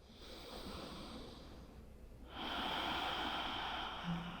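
Deep breathing during a morning yoga practice: a long, steady airy inhale or exhale, a short pause, then another fuller breath, close and soft with no talking.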